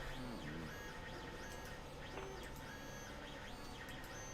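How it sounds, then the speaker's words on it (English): A 3D printer runs in a room as a steady electronic hum of whining stepper-motor tones that slide up and down continuously, faint and constant beneath the surroundings. "I don't know if you guys can hear my 3D printer"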